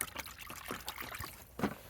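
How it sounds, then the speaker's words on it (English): Liquid fishing attractant being stirred into a bucket of water, giving soft, faint trickling and sloshing splashes in short irregular bursts, close by and alone without speech. "Give it a mix in the water"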